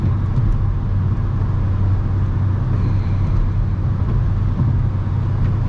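A car drives along a road with a steady, continuous rumble of engine and tire noise, heard from inside the vehicle with no talk.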